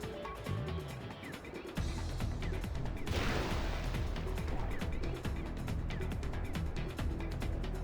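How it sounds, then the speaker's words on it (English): Gunfire in Final Fantasy, a sharp shot sweeping through a dense, continuous wash of game music and effects, with a quick run of clicks and hits continuing after it. "Did you just shoot from way back there?"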